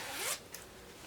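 A zipper on a handmade zipper pouch sewn from a tea towel is pulled open in one quick, fairly close rasp, followed by a short faint second tug, then quiet.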